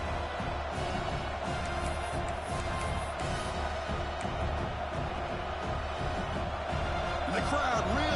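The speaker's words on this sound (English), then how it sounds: "the crowd really making some noise now, trying to help out this defense" A football stadium crowd during a late fourth-quarter goal-line stand between Notre Dame and Ohio State, a dense, continuous roar of cheering and noise throughout, steady in level with no clear breaks.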